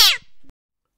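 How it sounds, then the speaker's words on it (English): A house cat called out of the way by its owner gives a short, loud meow that fades off, then a faint brief second call, with nothing after. "You get out of the way, Tiddles, you stupid bleeding cat!"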